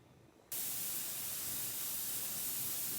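A pressure canner, loaded with carrots and vented before the weight goes on, releases steam in a sudden loud, steady hiss that starts abruptly and continues without a break.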